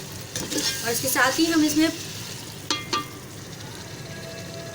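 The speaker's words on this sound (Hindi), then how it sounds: "इसमें अच्छी तरह चम्मच चलाएंगे" A spoon stirs spiced masala of ground coriander, turmeric and garam masala in a pan, giving a soft sizzle and a few light scraping clicks. A voice speaks over the first half.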